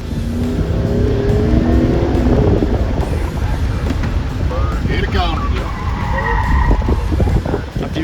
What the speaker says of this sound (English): In pursuit, white, Charger, speeding, pushing speeds of 75.